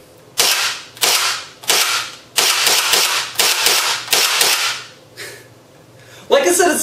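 A&K JLS CA33/HK33 airsoft rifle firing semi-automatic, about eight loud, sharp shots in an uneven rhythm, each a bright crack with a short mechanical whir as the spring is pulled back.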